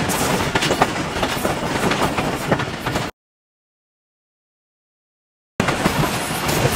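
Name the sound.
passenger train running on rails in Pakistan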